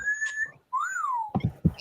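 A person whistles on request during a lively show: a sustained high whistle tone, then a rising-and-falling swoop, followed by a few low thumps or voice bursts, close and clear.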